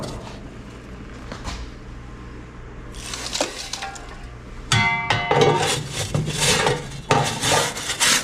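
Wood ash being scooped out of a wood cookstove on an Alaska homestead. A shovel scrapes against the stove's metal bottom in gritty rasps and clanks, quiet at first, then louder, close and repeated.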